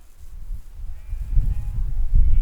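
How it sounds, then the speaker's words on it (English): Sheep bleat in the open countryside as a flock is rounded up, with low, rough calls rising in loudness toward the end over wind and outdoor rumble. "they're definitely busy rounding up all the sheep"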